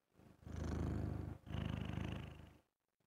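A cat purring close up in two long, steady rumbling bursts separated by a short pause, loud and continuous, then fading to near silence at the end.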